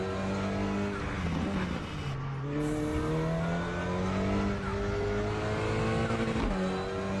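A race car in the RaceRoom Racing Experience game accelerates at full throttle. The engine roars steadily and loudly, its pitch climbing and then dropping sharply at a few gear shifts, with no voices.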